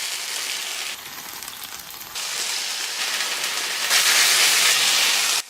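A pressed mushroom steak cooks in a pan after a splash of water, giving a loud, steady hiss and sizzle of steam that swells and grows brighter toward the end, with no talking.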